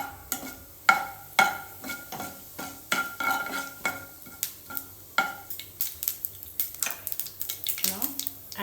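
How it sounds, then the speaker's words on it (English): Cumin and mustard seeds crackle and pop in hot oil in a pan, with sharp irregular clicks and metallic clinks of stirring repeating close by over a soft sizzle. "So after the oil gets heated, let's add zira and mustard seeds."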